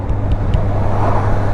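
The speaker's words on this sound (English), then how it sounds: "There's so much traffic out today, it's unreal, it's horrible." Steady road traffic rumble and passing cars on a cold, busy day, heard from a Honda CB650R motorcycle on the move, a continuous low drone with no talking.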